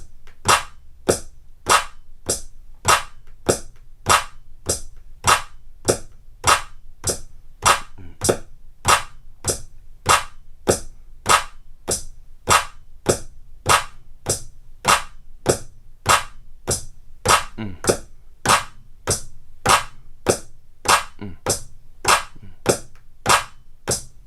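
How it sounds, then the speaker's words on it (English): Hi-hat and snare sounds are struck together on finger drum pads, a steady evenly spaced beat of sharp, crisp hits repeating about once per second with no talking. "I'm going to hit the hi-hat with the snare."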